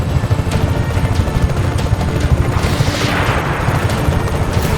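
Gunfire and explosive booms in the video game Just Cause 3 roll on continuously and loudly, with a helicopter's rotor rumble blended into the dense, steady battle noise.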